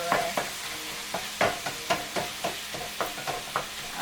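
Ground meat for lasagna sizzles in a hot, smoky pan while a utensil stirs and scrapes it in regular strokes, each scrape a sharp burst over a constant frying hiss, with no talking.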